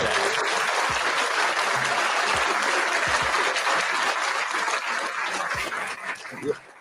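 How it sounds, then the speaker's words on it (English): A studio or live audience gives a sustained round of applause, loud and continuous throughout, thinning slightly and ending near the close. "Let's get Terry a round of applause"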